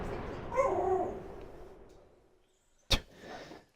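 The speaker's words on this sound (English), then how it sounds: "Complaining ass dog to get his treats." A dog whines and yips while complaining for treats, a few soft vocal bursts near the start followed by a single sharp, loud bark or yelp near the end, heard indoors.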